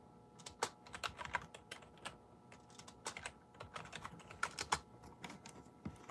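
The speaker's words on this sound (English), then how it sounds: "Type in my password." A password tapped out on a computer keyboard during server troubleshooting, irregular bursts of close key clicks with short pauses between, no voices.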